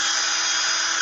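A power drill runs continuously at a steady, loud whine while drilling, close up with no voices.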